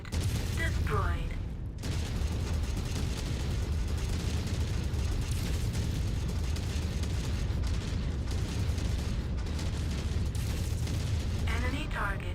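A destroyed enemy mech explodes in MechWarrior 5 Mercenaries amid continuous heavy booming battle noise, a dense, loud rumble of blasts and weapon fire lasting over twelve seconds, with brief synthetic voice callouts over the din.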